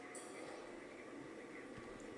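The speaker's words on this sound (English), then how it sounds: "That's a train coming." A train approaching from a distance around a bend near a railway signal, a faint steady rumble with a hiss, low and far off with no talking.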